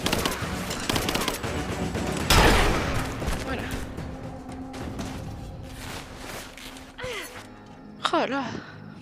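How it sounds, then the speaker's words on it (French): Gunfire aimed at the player in Rise of the Tomb Raider: rapid machine-gun bursts and scattered shots, loud at first then thinning out, with gasps and breathy vocal sounds between them. "On tire dessus."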